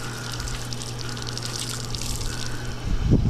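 Water runs steadily while filter cleaner is rinsed out of dirty air filters, a continuous hiss and splash that grows louder and more turbulent toward the end.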